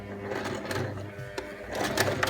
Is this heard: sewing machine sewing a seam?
yes